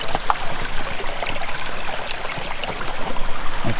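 Acid mine drainage water seeping up from underground and flowing along a river shoreline, a continuous close rushing trickle like a small stream, with no voices.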